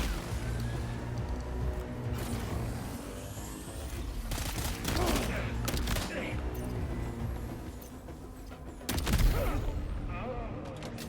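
Gunfire in Death Stranding 2 cracks out in scattered loud shots and short bursts over dense game noise and music, with a voice talking throughout.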